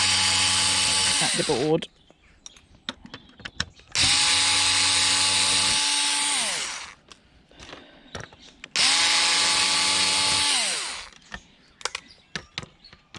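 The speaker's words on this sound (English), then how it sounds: "using an electronic screwdriver" An electronic screwdriver undoes screws on an old DVD player in three whirring bursts of a couple of seconds each. Each burst has a rising and falling motor pitch, separated by clicks and handling noises, and a voice speaks briefly.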